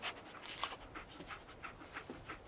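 A dog in Fallout 4 pants in quick, soft rhythmic breaths, faint and steady over a couple of seconds, with no one speaking.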